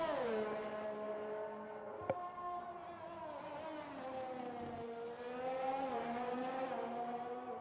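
Formula 1 car from F1 2020 on the Bahrain track, AlphaTauri on soft tyres: a steady, loud engine whine held alone with pitch rising and falling through gear changes, plus a brief click near the start.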